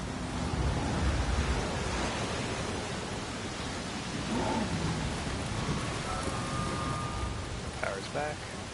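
Steady heavy rain with low rumbling thunder during a storm in the dinosaur park game Jurassic World Evolution, a dense continuous wash with a brief tonal game cue near the end.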